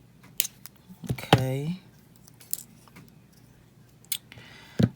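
Snips cutting excess aluminum wire while making vintage tag earrings, a few sharp close clicks spread across the clip around a brief spoken word.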